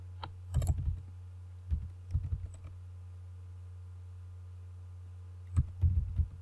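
Typing on a computer keyboard while writing text in MS Word, heard as short bursts of soft key clicks separated by pauses over a steady low hum, with no talking.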